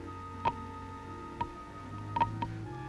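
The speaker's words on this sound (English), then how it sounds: "Something's ticking." Sparse, faint clicks tick irregularly in a quiet room, a few separated taps over steady low hum, standing in for a bomb timer on an armed atomic mine.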